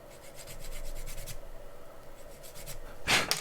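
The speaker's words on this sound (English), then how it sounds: "We'll sand that off." Sanding excess plastic off a Millennium Falcon model part, heard as short, close, repeated rasping strokes in a quiet room, ending in a sharper scrape.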